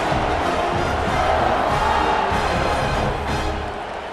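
A stadium crowd in EA Sports College Football, a loud, dense roar of cheering that holds steady and eases slightly toward the end.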